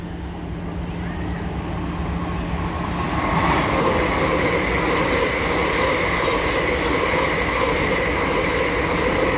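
An LNER Class 801 train runs from Aberdeen to London King's Cross and passes through Doncaster station, a loud, sustained rumbling roar with a steady rail hum that builds and holds close by.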